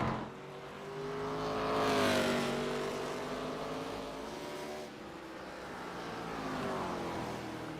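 ARCA race cars lapping North Wilkesboro in iRacing, their engines a steady droning whine that swells and bends in pitch as cars pass close, with no one talking.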